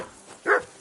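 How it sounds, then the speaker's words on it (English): A dog in Kingdom Come: Deliverance 2 lets out a single short, fairly loud bark, alone with faint background. "That barking was a pain in the ass."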